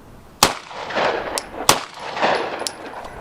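Three sharp 9mm handgun shots fired one-handed, spaced roughly a second apart, each a loud close crack followed by a brief ringing echo.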